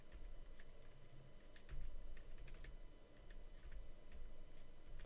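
A computer keyboard gives a scattered run of faint, sharp clicks and key presses at irregular intervals over a low background hiss, with no one speaking.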